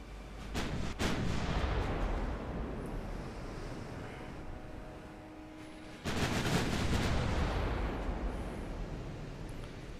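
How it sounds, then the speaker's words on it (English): Secondary guns of a destroyer firing in the naval battle game Ultimate Admiral Dreadnoughts, a rumble of repeated booming shots that swells near the start, eases off, then returns loudly around the midpoint. "Secondary guns on the destroyer."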